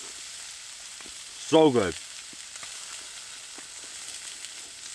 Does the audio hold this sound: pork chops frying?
yes